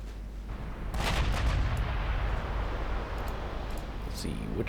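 Naval gunfire in the Ultimate Admiral Dreadnoughts naval strategy game (NAR Mod, 1939 US fleet): heavy, rumbling cannon booms layered into a dense, continuous barrage with sharper reports near the start and at the end.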